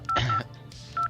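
Telephone keypad dialing tones, two short bright beeps a little under a second apart, with a brief burst of noise between them, close and fairly quiet.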